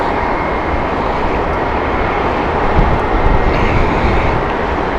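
A fixed-wing airliner makes a go-around at Heathrow Airport, and its engines give a loud, steady, broadband roar that fills the whole stretch without letup.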